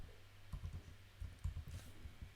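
A computer mouse clicks while someone works in Microsoft Word. The quiet, close, dry clicks come in small irregular clusters against a faint background, with no voices.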